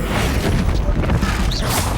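A Bombarda blasting spell explodes in Hogwarts Legacy on PC. It makes a loud, dense, rumbling crash with crackling debris that fills the whole two seconds without letting up.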